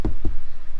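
Two quick knocks of knuckles on a hard surface, close and dull, spaced about a fifth of a second apart, followed by quiet room tone.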